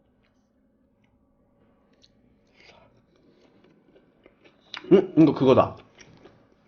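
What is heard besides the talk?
chewing wood-fire grilled pork belly with black duck sauce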